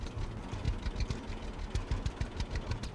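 Tractor engine idling in the farming video game Farmer's Dynasty, a low, quiet, steady rumble with soft rhythmic knocking pulses and no talk.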